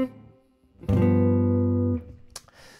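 A single sustained jazz guitar altered chord rings out clearly for about a second after a soft lead-in, then fades into quiet fret noise.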